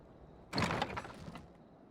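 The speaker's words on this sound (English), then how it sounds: "Of course, someone comes to the door." A door opens in a Final Fantasy XIV Dawntrail cutscene, a single soft sliding burst lasting about a second over quiet background ambience, with no voices.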